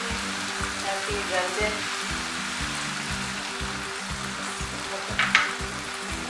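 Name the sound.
water added to frying chicken mince with vegetables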